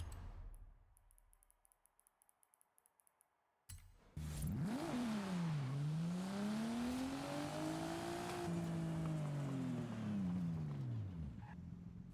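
A car in the Forza Horizon 5 racing game launches and accelerates hard in first gear: a few faint clicks, then a sudden loud engine roar that sweeps up and down in pitch and holds high revs, steady and continuous.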